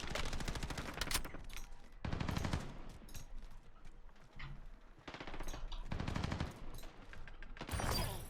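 Bursts of gunfire in a multiplayer shooter video game, several loud volleys with short gaps between them, mixed with game ambience and no talk.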